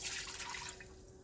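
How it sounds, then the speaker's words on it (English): A cup of Sauvignon Blanc white wine is poured into a pot of pasta and seafood, giving a short, quiet trickling splash with no talk. "We're going to add a cup of white wine."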